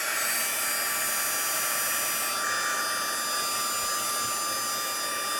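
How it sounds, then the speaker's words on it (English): A craft heat tool running steadily to dry blended ink on a handmade card, a loud, continuous high-pitched blowing whine that holds for several seconds without talk. "I'm just going to get my heat tool for a little second."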